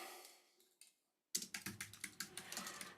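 Fingers type on a computer keyboard: a few soft keystrokes, a brief silence, then a quick run of sharp, close clicks.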